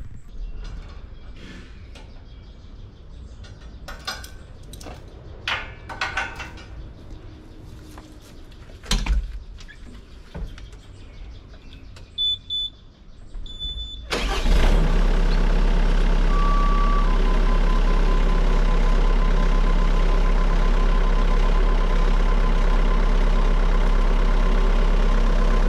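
A Bobcat Toolcat 5600 strains to pull an old fence post with a chain, with scattered clanks and creaks at first, then the engine roars up loud and holds at a steady heavy drone for the second half.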